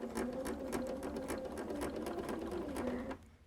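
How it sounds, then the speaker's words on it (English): Sewing machine stitching a quilt block, a fast, steady mechanical whirr with rapid needle ticks, close and moderately quiet, running continuously before stopping near the end. "go ahead and sew up to this and stop again before you get to it"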